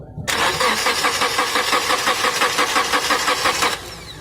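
A car engine cranking with a rhythmic whirring chug for about three seconds, then catching and settling into a quieter idle, close and loud.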